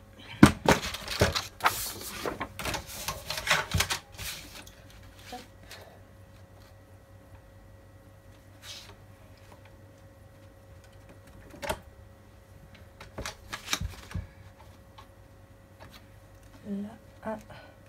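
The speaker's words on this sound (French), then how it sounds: "Je ressors ma guillotine." A paper guillotine trimmer slicing folded crafting paper in two during album making, with a cluster of clicks, slides and scraping handling noises, then sparser taps and rustles, close and fairly quiet.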